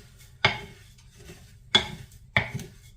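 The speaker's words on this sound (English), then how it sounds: "there's my oat mix, and I'm gonna just mix this up" A spoon stirs oat muesli mix in a bowl, giving three sharp clinks against the bowl spaced about a second apart, with quiet rustling of the dry mix in between.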